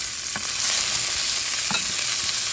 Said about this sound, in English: we're going to saute these just a little bit